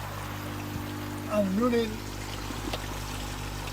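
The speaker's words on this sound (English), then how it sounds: "new pipes back in, up and running, flowing back out and into the pond" Water from new koi pond filter pipes, running flat out at 10,000 litres, gushes back into the pond in a steady broadband rush that runs the whole length, while someone speaks briefly over it.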